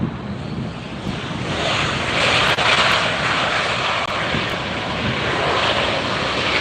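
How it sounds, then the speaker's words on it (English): A jet airliner landing at LAX roars with reverse thrust, a loud, sustained broadband rumble that swells after the first couple of seconds and holds steady, heard close with no talk. "Boy, you can really hear them reverse thrust in this location, can't you?"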